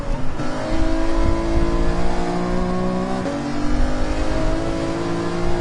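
A race car engine in Gran Turismo 7 revs and accelerates, a loud sustained engine whine that climbs in pitch, drops with a gear shift, then climbs again, with no talking.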